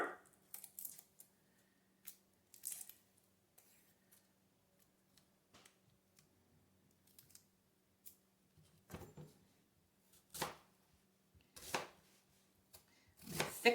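Knife cutting a small whole onion into thick slices on a board, a quiet scattering of sharp taps and crunches, sparse at first and then landing in several firmer strokes.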